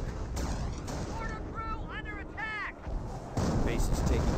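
Gunfire and explosions hit a base in the Company of Heroes World War II strategy game, with steady booming shots, rising whistling shell sounds, and a heavy blast near the end.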